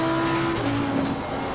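A GT race car engine in Assetto Corsa Competizione eases off the throttle, its loud steady tone dropping in pitch as revs fall through a corner, with a faint tire rumble underneath.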